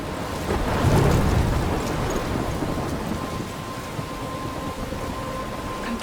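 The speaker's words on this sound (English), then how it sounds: "I'm trapped in a storm?" A thunderstorm in the video game Life is Strange, with steady heavy rain hissing throughout and a low rumble of thunder swelling early before settling into a continuous wet roar.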